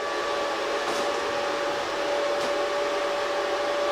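A PPS30 B2 plasma cutter running, a steady loud hiss of rushing air with a constant whine, continuous throughout with a couple of brief crackles.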